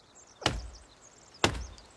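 Two sharp, loud axe chops land about a second apart on a tree trunk in a forest survival game, each a woody thwack with a short decay and nothing else sounding.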